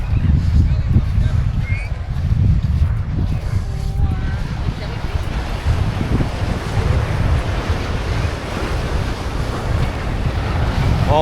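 Ocean waves wash continuously onto Floreat Beach in Perth, a full broadband surf roar with heavy wind buffeting the microphone throughout.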